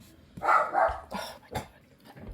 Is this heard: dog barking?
yes